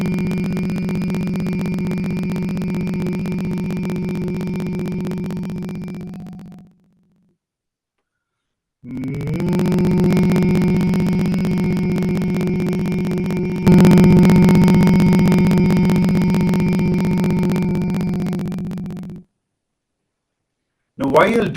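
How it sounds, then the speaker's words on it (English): A person hums deeply and intensely as part of a breathing exercise: two long, steady, loud hums separated by a short silent pause for breath, with a final brief hum starting at the end. "take a deep breath, and then hum deeply and intensely without stopping"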